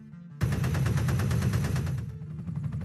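Heavy .50 caliber machine gun fires one sustained burst of rapid rounds, loud and close, running about a second and a half before cutting off, with a trailing echo and fainter follow-up shots after.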